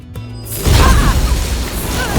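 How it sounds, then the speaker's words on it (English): An explosion goes off in The Bard's Tale IV, a fantasy role-playing game. A quieter stretch gives way to a heavy, loud boom with a crashing, rumbling tail. "Explode!"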